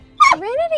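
A dog named Trinity barking at deer: one short, sharp yelp sliding into a rising whine, close and loud, heard briefly near an RV.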